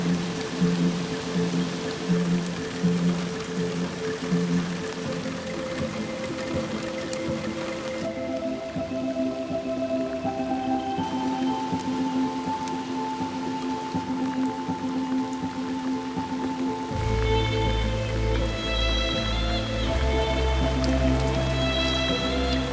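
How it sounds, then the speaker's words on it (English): Rain patters steadily on surfaces at a national forest campsite, a continuous close drip and splatter layered with a sustained tonal hum that shifts partway through, no voices. "It just started to rain."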